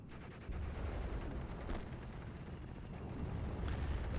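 In the Steel Division: Normandy 44 battle game, a Jagdpanzer fires on infantry: faint continuous rumbling gunfire and distant bursts blend into a dense battle din.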